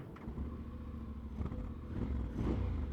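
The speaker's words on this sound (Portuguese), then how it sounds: "Vamos lá ao sonzito, aqui deste escape." A Honda X-ADV scooter idles in neutral with the parking brake on, its engine and exhaust giving a low, steady rumble with faint mechanical clatter and small throttle blips, heard fairly quietly and close.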